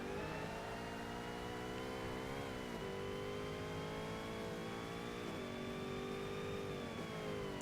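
A Cadillac race car engine in Forza Motorsport revs hard, its whining tone rising steadily and dropping sharply at a few shifts and lifts off the throttle, with no one talking.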